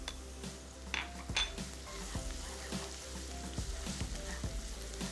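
Onion, garlic and turmeric sizzle steadily in a pan, with a few clinks of a utensil against the metal and light stirring, heard up close with no voices.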